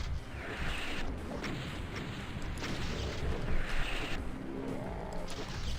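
A Cyberdemon fires at the player in DOOM (Plutonia Experiment mod), booming rocket blasts and crashing impacts repeating every second or so, loud and close amid dense game noise.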